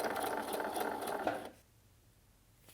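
A sewing machine runs a seam through fleece, a brief steady motor whir with light needle clatter for about a second and a half before cutting out to near silence.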